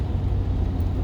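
A 2020 Ford F350 with a 6.7 Powerstroke diesel pulls under acceleration, giving a steady, deep engine drone heard from inside the cab with no talking over it.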